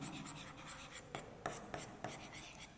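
Marker or chalk scratching across a classroom board during a Class 5 maths lesson on area, with a steady run of writing strokes and a few sharper taps, no voice over it.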